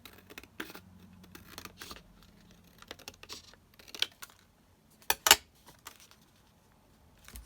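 Paper being cut down to size for a handmade envelope folio journal: faint, sparse snips and rustles near the mic, with two sharper crisp cuts standing out toward the end against a quiet background.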